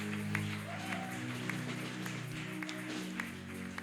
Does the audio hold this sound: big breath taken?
no